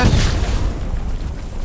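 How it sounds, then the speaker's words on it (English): A satchel charge goes off in a battlefield video game, a loud, deep, rumbling boom that fills the short moment and then dies away with no talking. "Satchel goes off?"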